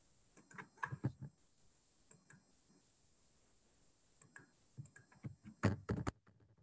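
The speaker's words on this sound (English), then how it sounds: "let me type it" Bursts of keyboard typing during an online training session, quick clusters of light key clicks near the start and again toward the end, separated by a quiet pause.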